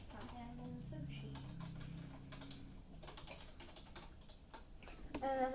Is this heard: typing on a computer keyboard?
yes